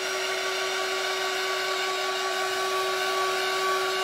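A hair dryer runs steadily on a Dollar Tree pizza pan craft, a loud, continuous whirring hum with a fixed motor whine, holding even throughout with no voices.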